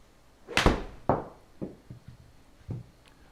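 A golf ball is struck with a 7-iron during a warm-up on a practice range: one crisp, loud impact followed by several softer, decaying thumps spaced about half a second apart, with no talking.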